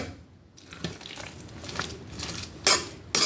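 Potato salad made with russet potatoes and boiled eggs being mixed in a pot: scraping and clinking of a utensil against the pot, soft and irregular, with a couple of louder knocks near the end and no voices.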